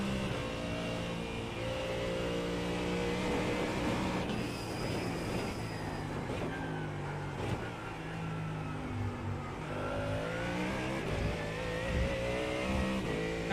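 A Ford Mustang engine in a racing video game, revving up and down through gear changes with a sustained harmonic drone that rises and falls over the whole stretch.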